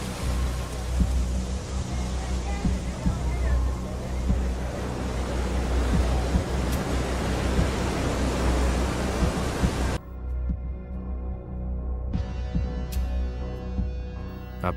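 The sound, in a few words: ocean waves and surf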